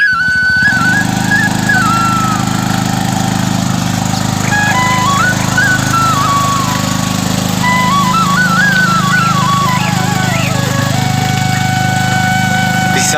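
A motorcycle starts and then runs on a rocky hill road, its engine loud and close throughout, with a steady rumbling drone and rising and falling revs as it climbs.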